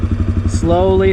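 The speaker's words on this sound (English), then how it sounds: "the engine RPM just dropped, and the bike can start to move" A manual-clutch dirt bike's engine putters at a steady idle, then its note sags and strains as the clutch bites and the bike begins to move, under someone talking.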